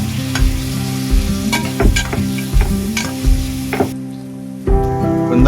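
Ginger paste stirred into a sizzling pan of onions and spices for a spicy mutton curry, with steady frying hiss and repeated scraping, clinking spoon strokes against the pan, close and loud.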